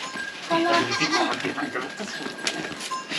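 Goats bleating as they are walked toward the forest in a hilly village, several calls overlapping over outdoor noise, with a voice talking among them.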